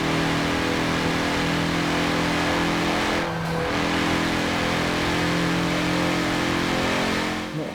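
Porsche engine in a racing video game, a steady loud mid-pitched drone held at high revs, briefly dipping as for a gear change and then pulling on, continuous and close.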